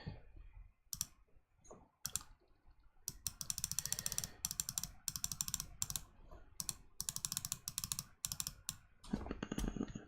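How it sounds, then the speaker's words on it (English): Rapid computer mouse clicking in bursts, sharp close clicks in fast runs with brief pauses between, fairly quiet, no talk. "I don't have to hear my continuous mouse clicking"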